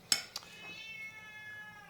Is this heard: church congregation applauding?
no